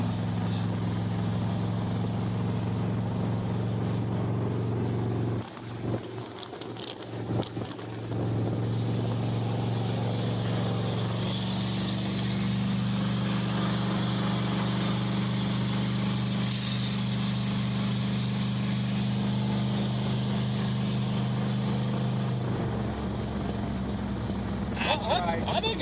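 Steady low engine drone and road and wind noise from a 1963 Plymouth Belvedere wagon out on the road, with a brief dip in the middle. People talk over it throughout.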